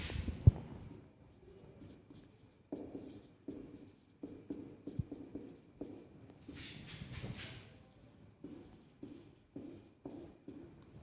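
Handwriting scratches close by in short bursts of strokes separated by pauses, with a sharp tap near the start and a brisker, hissier flurry partway through, and no voices.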